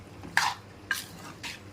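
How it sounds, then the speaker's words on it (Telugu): A spoon scrapes and stirs chicken and pickle together in a pot, three separate swishing strokes at an unhurried pace, close and fairly quiet with no voices. "ఇప్పుడైతే బయట పెట్టే చికెన్ అన్నీ వేసుకోవాలి, కలుపుకోవాలి"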